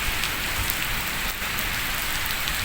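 Unseasonal rain pouring onto a grain market where farmers' paddy lies drying, a loud, dense, steady hiss of rainfall close by with no voices.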